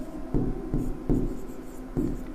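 Chalk or marker scratching on a classroom board during a lecture on magnetism, with short repeated strokes and taps at an uneven rhythm, close and fairly loud, and no speech.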